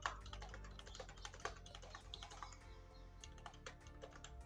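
Rapid typing on a computer keyboard while entering a quantity into an Excel stock management sheet, a steady patter of close, quiet key clicks with a few harder taps and no talking.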